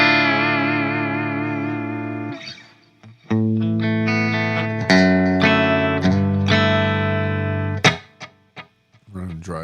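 A 1984 Kramer Illusionist electric guitar played through effects gives sustained chords and notes with distortion, chorus and echo, ringing out loud with short gaps between phrases.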